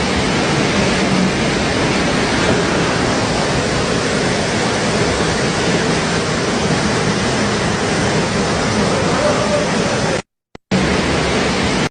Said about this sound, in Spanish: Miren la intensidad con que el agua entra allí.